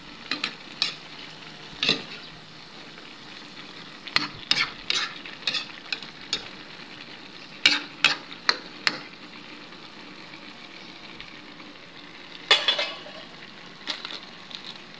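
Vegetables for pancit canton stir-fried in a single pan, with repeated sharp scraping and stirring clatters over a steady soft sizzle, close and moderately loud with no talk.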